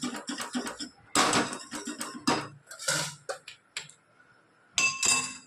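Besan batter is stirred in a pot, a run of quick scraping and clinking strokes of a utensil against the metal, with short pauses between bursts.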